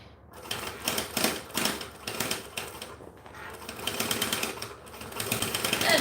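A sewing machine stitches fabric in fast rhythmic bursts of needle chatter, briefly pausing and then running on, close and fairly loud during a live sewing session.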